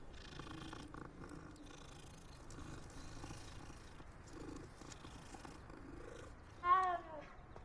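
A cat purrs softly and steadily while being petted in a video game, low and continuous, then a brief louder meow near the end.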